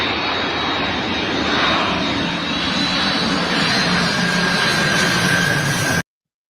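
A plane passes overhead near an airport, its engine roar a broad, steady, loud wash with a faint high whine, holding level for about six seconds before cutting off abruptly.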